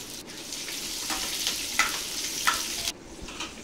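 Onions, green chillies and curry leaves frying in hot oil in a pan, a steady close sizzle and crackle with occasional louder pops.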